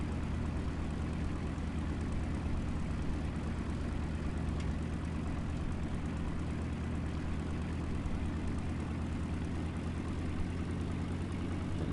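A propeller plane in the War Thunder video game drones at low speed, a steady low engine hum that holds evenly throughout with no talk.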